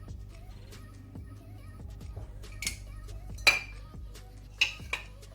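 Utensils scrape and clink around a bowl while tabbouleh salad with olive oil, mint and salt is tossed, soft repeated stirring strokes punctuated by a few sharper metallic taps, close and fairly quiet.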